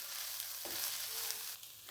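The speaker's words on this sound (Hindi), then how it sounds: "क्योंकि बंद गोभी कच्ची है तो इसे 3 से 4 मिनट तक हम पकाएंगे ताकि ये सॉफ्ट हो जाए" Raw shredded cabbage fries in a pan with a continuous loud sizzle, broken by a stirring scrape and a brief shift in the hiss partway through, with nobody talking.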